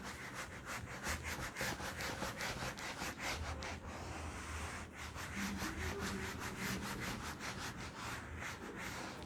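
Steady rhythmic rubbing of an eraser wiping writing off a classroom board, close and continuous for several seconds, with repeated back-and-forth strokes and no speech.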